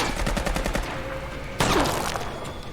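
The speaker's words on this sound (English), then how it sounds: "Nice shots." Gunfire in a zombie drama TV episode: a rapid burst of shots, then a sharp louder blast with some ringing decay, all fairly loud and without speech.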